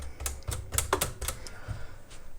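Sticking keys on a Princess 300 typewriter are pressed one after another, giving sharp, close mechanical clacks in an uneven rhythm, some struck in quick pairs, with a faint rattle between strikes.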